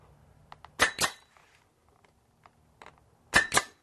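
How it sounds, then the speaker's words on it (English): Pneumatic nail gun fastening brick molding beside a sliding glass door, two pairs of sharp, close snapping shots separated by a quiet stretch with faint clicks. "And we'll just nail it down"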